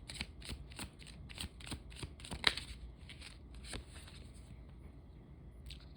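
Tarot deck shuffled by hand in a series of crisp, rapid riffling flutters, close and fairly quiet, with a sharp tap partway through and the shuffling tapering off toward the end.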